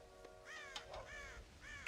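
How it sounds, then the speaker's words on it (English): Several crows caw in a string of harsh calls inside the Red Dead Redemption game world, heard fairly faint and distant with no voices over them. "God damn crows!"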